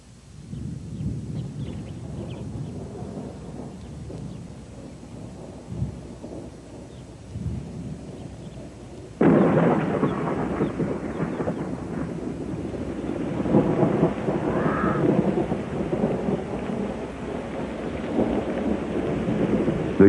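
A storm rolls over dry-season savanna: low rumbling thunder at first, then a sudden surge of steady rain and wind noise that continues loud and close to the end.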